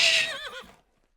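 A horse whinnies loudly and alone, a single descending neigh with a shaky, wavering tail that fades out over about a second.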